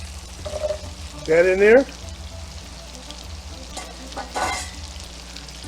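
Celery hits melted butter in a pan over medium to medium-high heat, the start of a cream of broccoli soup. A soft, steady sizzle and stirring carry on beneath a brief spoken remark.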